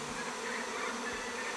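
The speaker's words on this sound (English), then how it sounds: "I'm sure you can hear that buzzing and thousands of bees buzzing around us" A swarm of honey bees buzzing around a hive among trees, a dense continuous drone of thousands of wings surrounding the listener, steady and fairly loud with no talk.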